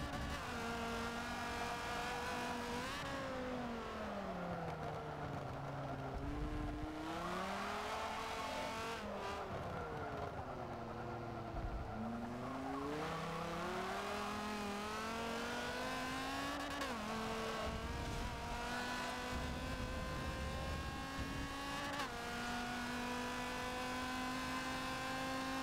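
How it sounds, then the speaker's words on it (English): A race car engine in the video game Forza 7 rises and falls through repeated bursts of acceleration and engine braking, the pitch dropping sharply as the car slows, with faint tire squeal, steady and alone throughout. "Engine braking."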